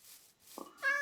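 A Minecraft cat gives a short, clear meow, starting with a soft onset and rising into a brighter, tonal cry near the end, close and alone against quiet game ambience.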